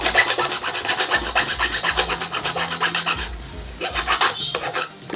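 A motorcycle key blank for a Honda Beat is filed by hand, a steady close rasping scrape repeating in quick strokes with a short pause partway, then resuming.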